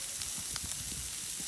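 Fish and sausage sizzle in a pan over an outdoor fire, a steady faint frying hiss with small scattered pops and crackles.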